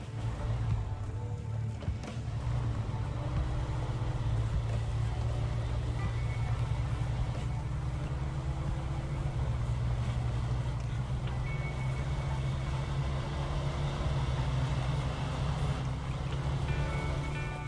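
A pickup truck's V8 engine idles and rumbles steadily in SnowRunner, a low, constant drone holding at one level throughout with no talk over it.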